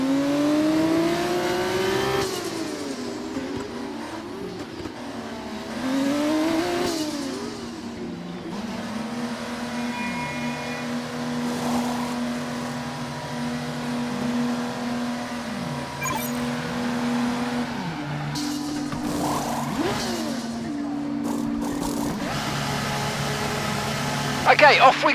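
F1 race car in the F1 24 video game at Monaco, engine note rising and falling through gear shifts before settling into a steady, held drone at the pit-lane speed limit, with a burst of revving near the end.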